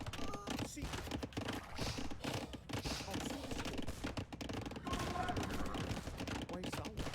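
Rapid gunfire crackles from gun units in an Age of Empires-style 3v3 real-time strategy battle, dense overlapping shots and clatter running continuously under a voice talking.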